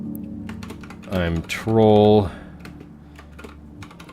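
Quick clicking keystrokes on a computer keyboard, soft and fairly close, pattering steadily while someone speaks briefly over them.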